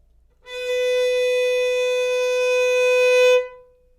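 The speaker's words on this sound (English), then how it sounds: "open A string, it's time to play B with our first finger." A violin sounding B with the first finger on the A string, a single steady bowed note held for about three seconds, clear and close with no talk.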